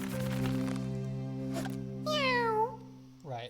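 A cat in the video game Reigns: Her Majesty gives a short, rising-and-falling meow, then a second brief mew, over a sustained droning musical backdrop at moderate volume.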